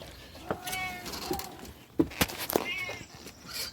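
Cats meowing close by, several short distinct cries with a few sharper, louder ones, set against a quiet outdoor background, with a person talking briefly.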